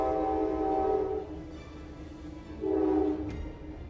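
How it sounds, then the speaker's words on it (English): A train horn sounds two loud sustained blasts, about a second each with a pause between, over the low rumble of a passing train. "Excuse you, train."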